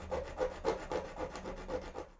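Metal being filed or stone-ground off the sear contact area of a CZ 75 race hammer, a steady run of close, rhythmic rasping strokes, about eight passes in quick succession with no talking.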